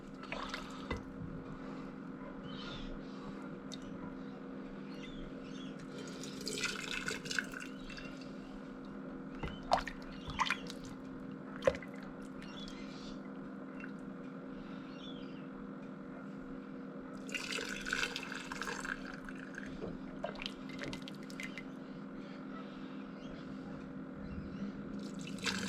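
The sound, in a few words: ladling bone broth through strainers into a jar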